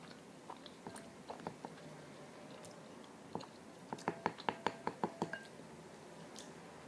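Cooked oats chewed up close, with soft, moist bites that start sparse and quicken into a steady run of wet chewing sounds, faint and intimate in a quiet room.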